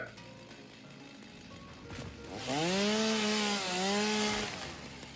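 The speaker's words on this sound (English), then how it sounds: "let's turn the chainsaw off, because that's just annoying having that running constantly" A chainsaw in the video game Satisfactory revs up to a loud, rising, droning whine that holds steadily and dips briefly once, close and continuous after a quieter start.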